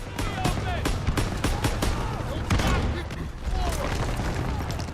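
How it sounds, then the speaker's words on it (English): Dense bursts of enemy gunfire from German troops in Call of Duty WW2, a volley of sharp cracks and booms with scattered impacts, steady and fairly close, in a World War II battle near the Rhine. "there seems to be a lot of enemy fire coming this way"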